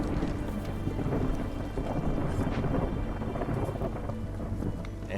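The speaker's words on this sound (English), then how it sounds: "on comes the storm one more time." A thunderstorm sweeps over a marshland settlement in the video game Against the Storm, with a steady, dense roar of heavy rain and rumbling thunder that holds at a constant level throughout.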